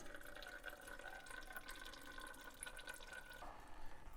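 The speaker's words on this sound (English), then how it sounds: "Okay, so we're going to let that drain." Brake fluid flushing out of the brake system of a Mercury Marauder on a Panther chassis, a faint, steady trickle and drip of liquid running continuously, with a thin tonal whine underneath that cuts off near the end.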